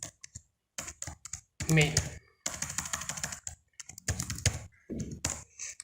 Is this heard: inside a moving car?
no